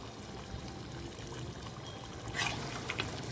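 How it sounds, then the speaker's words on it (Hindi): Yogurt goes into beef karahi in hot oil, a faint pouring and splashing that swells into a brief sizzle near the end, quiet and close. "मैं इसमें दही डालूंगी। 2 चम्मच भर के हम इसमें दही के डालेंगे।"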